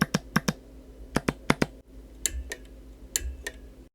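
Paddle shifter clicks on a Polsimer F74 LED sim racing wheel, first in the stock single-magnet setup and then with two added 2mm by 12mm neodymium magnets. Crisp, close, isolated clicks come in quick pairs and clusters, and the second set sounds duller and deeper.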